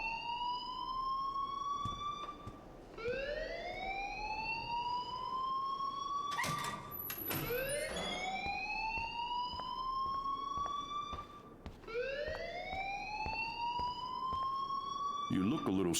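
A rising and falling wail alarm sounding in the game Life Is Strange, loud and continuous, with a short burst of talk in the middle.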